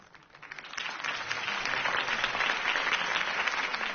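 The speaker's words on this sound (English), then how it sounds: "could have heard that applause" Crowd applause rises after a political campaign speech for Harvey Dent in a Batman Telltale video game, building from a few claps into sustained, dense clapping with no talking over it.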